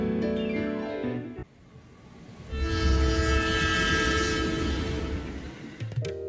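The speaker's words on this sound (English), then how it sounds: "Our adventure begins on the train" Train ride in the video game Sushi Ben: a tonal horn sounds, then the steady rumble of a moving train swells and carries on, ending with another short horn-like tone.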